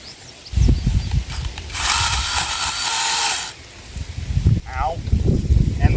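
A power trimmer cuts back thorny bushes in a short, loud whining burst of about two seconds, amid rustling and crunching branches close by; a person talks around it.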